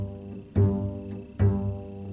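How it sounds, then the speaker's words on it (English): Double bass plays its open G string, two bowed or plucked low notes about a second apart, each with a firm attack and sustained resonant tone. "And you can just play the open G string."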